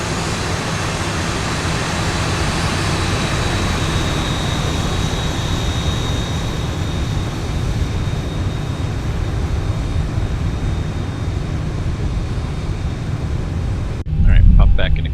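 A Boeing 737 in the flight simulator X-Plane 11 makes a flyby, heard from tower view as a steady broadband jet roar with a faint whining tone that holds for about fourteen seconds before cutting off abruptly.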